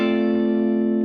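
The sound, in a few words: guitar hammer-on to A, 12th fret, 5th string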